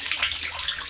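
Water pours and splashes steadily in a brief close burst, a bright hissing flow like a tap running, with no voices.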